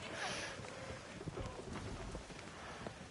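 A rain and thunder storm on the open sea in Skull and Bones, with continuous heavy rain hiss, low rumbling thunder and wind, fairly faint and steady.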